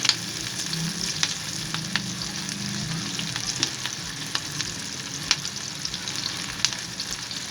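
Onions sautéing in a pan for chicken jalfrezi, a steady close sizzle with a few light stirring clicks and no speech.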